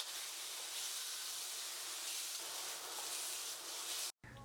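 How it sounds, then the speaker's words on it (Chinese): Chicken pieces stir-frying in hot oil in a heated wok, a steady, loud hissing sizzle that carries on evenly, briefly cutting out near the end, with no talking. "炒锅加热，加入适当的油，把切好的鸡块放进来煸炒，"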